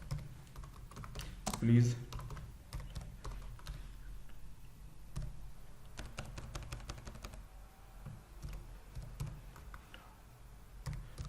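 Keys clack on a computer keyboard in irregular bursts while remarks are typed into SAP Business One, with a soft voice speaking briefly over the tapping.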